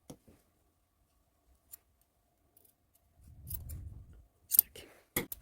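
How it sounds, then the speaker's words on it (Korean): Scissors snip through the end of a fabric mask strap in a quiet room, a few sharp blade closures near the end after faint handling noises. "끝을 이렇게 잘라 주세요."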